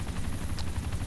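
Merlin helicopter in the DayZ Origins survival game, a continuous close rotor thump with a rapid rhythmic chop and steady engine whine, loud and alone without any voice.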